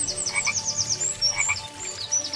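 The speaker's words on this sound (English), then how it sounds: "a frog jumped out of the water" A frog croaks in a rapid, continuous chirping rhythm at the water's edge, with repeated trilling calls overlapping throughout.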